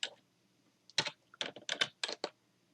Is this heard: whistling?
no